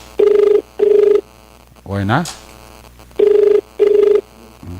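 A cellphone ringing in a repeating pattern, two loud beeping rings, a pause while someone speaks briefly, then two more rings, close and clear.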